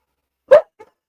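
A dog gives one sharp, loud, close bark followed by a brief faint after-sound, alone in otherwise silent surroundings.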